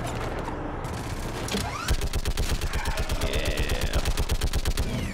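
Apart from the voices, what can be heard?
mounted gun firing in the video game Mass Effect 3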